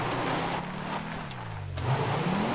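A car engine in a video game drones steadily, its pitch sliding down and then climbing again as it changes speed, fairly loud and with no talk over it.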